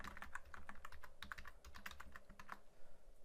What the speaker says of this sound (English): So we'll just type some text in there.